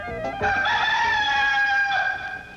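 Rooster crowing in a TV commercial, a single loud, clear cock-a-doodle-doo call, close and alone, stretching out over about two seconds.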